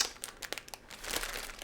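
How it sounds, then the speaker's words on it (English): Cellophane wrap being peeled and stripped off a DJI Avata 2 drone box, with close, steady crinkling and crackling that comes in short bursts and then swells into a longer continuous rustle. "let's get all this cellophane off of here"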